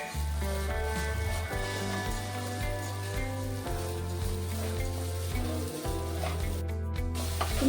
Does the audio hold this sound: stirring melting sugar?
yes